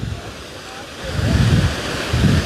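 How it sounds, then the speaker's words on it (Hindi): A large fountain jet hurling thousands of litres of water upward every second, a loud rushing roar that swells in two heavy surges, with wind buffeting the microphone. "प्रति सेकंड कई हजार लीटर पानी ये फव्वारा, ये जो पॉइंट है, ये पॉइंट ऊपर फेंक रहा है"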